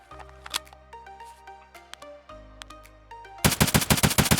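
An STM-9 submachine gun is fired from the hip in Escape From Tarkov, starting with scattered clicks and handling noises, then a loud, rapid burst of automatic shots near the end, with no talking.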